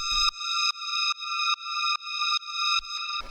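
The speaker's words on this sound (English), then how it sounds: "Then we have this little metal drone" A metallic synth drone holds a steady D sharp tone for a hard rave techno track, pulsing in regular swells about every 0.4 seconds, clean and sustained with no voices.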